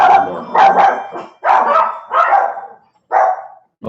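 Several dogs bark in close, loud bursts, a few quick yips followed by separate barks with short pauses between them, and no talking over them.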